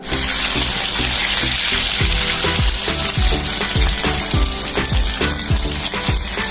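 Chicken pieces deep frying in hot oil give a loud, dense, continuous bubbling sizzle, close up, with regular clinks and scrapes from a utensil moving the pieces about.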